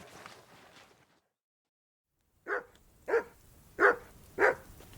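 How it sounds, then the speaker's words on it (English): In the video game Kingdom Come: Deliverance II, a dog barks four times in a steady rhythm at close range, after a short stretch of murmur and a pause of silence. "Call off that damn dog before he wolfs down the last of our mates."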